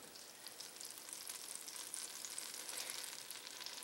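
Melted butter sizzles steadily in an enameled cast iron soup pot, a close, even hiss of frying that holds without a break throughout.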